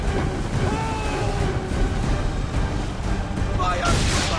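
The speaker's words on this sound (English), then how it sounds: "That wind's slowing us down!" Strong wind and rushing sea water around a sailing ship at sea in the Assassin's Creed game, a steady loud roar of gusts and surf that fills the whole stretch without pause.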